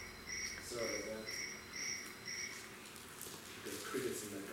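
Crickets trapped in a cup chirp in regular, evenly spaced pulsing trills, moderately close, with a faint voice murmuring underneath.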